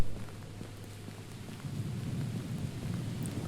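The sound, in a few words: thunder and rain in the video game Unforgiving: A Northern Hymn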